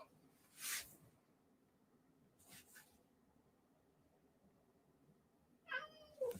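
A cat gives a short meow close by, late in a quiet room, after a couple of soft scratchy sounds.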